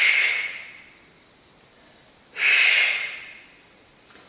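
Two strong, forceful breaths during a Pilates mat workout, loud and close, each a rushing exhale that fades out, with a quiet gap between them.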